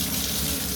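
Water gushing from a household tap plumbed to a Hydraloop greywater recycling unit, a dense, loud, continuous rush heard close up with no pauses.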